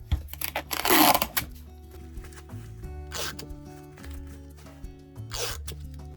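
Masking tape pulled from the roll and pressed onto bubble wrap while packing glass bowls for shipping, giving several short ripping bursts over rustling plastic and handling noises, close and fairly quiet with no talk.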